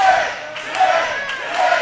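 A wrestling crowd at a heavyweight championship match chants and cheers in a loud, rhythmic roar, with the pulsing chant repeating steadily across the whole stretch.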